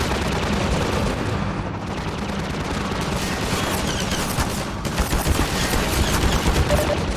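Sustained enemy ship gunfire in Half-Life 2, a dense, continuous rattle of rapid shots and blasts that holds loud throughout with slight surges near the end.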